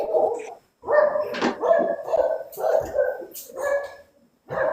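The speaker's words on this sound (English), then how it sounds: "Because you have a dog in house." A dog barks repeatedly indoors in a house, a run of mid-loud yips and woofs in irregular bursts with short pauses, heard close by in a room.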